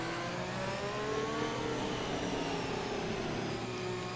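Several F1 race cars in a video game cruise behind the safety car on a Monaco street circuit, a steady, continuous engine drone with shifting pitch throughout, no talk.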